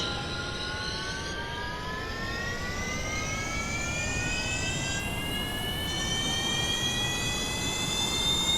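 Jet aircraft engine in Kerbal Space Program, a steady roaring whine with rising tonal harmonics that climb in pitch as it launches, loud and continuous throughout with no talking.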